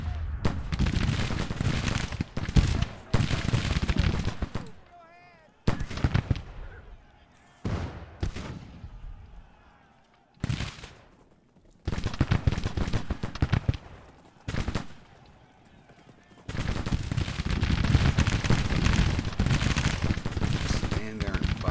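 Cannon and musket fire roll across a Civil War battlefield as Rucker's Legion shoots across a road in Grand Tactician, dense loud volleys in long bursts broken by brief lulls, with a voice talking faintly in places.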